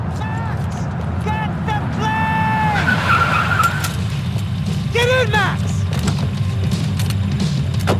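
A car skids and speeds off amid gunfire-laden action in the Max Payne 3 video game, tires squealing in a long slide over steady engine drone, with someone shouting over it.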